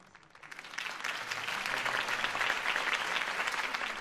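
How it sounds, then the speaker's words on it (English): Audience applause after a mayoral campaign speech, starting thin and swelling within a second into sustained, dense clapping from a sizeable crowd that holds steady to the end. "could have heard that applause"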